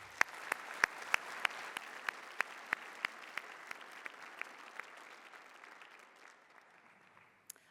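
Audience applause for graduates at an awards day ceremony: a steady patter of clapping with a few sharp, close claps standing out, gradually thinning and fading over several seconds.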